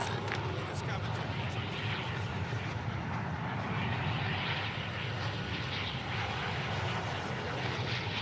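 An airplane engine drones in a battle royale video game as a steady, loud, continuous rumble with no change in pitch throughout.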